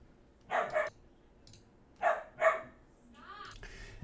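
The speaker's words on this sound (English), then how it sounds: "had to take a break there to calm down some dogs" Dogs bark in two quick pairs of sharp, mid-distance barks separated by a pause, followed by a softer whining yip against a quiet indoor background.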